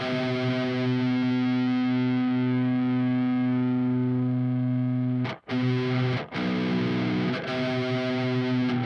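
A sustained distorted note at the 12th fret of an out-of-tune electric guitar strung with seven strings on a six-string neck rings out with a wavering, slightly sour quality, briefly cut twice before resuming.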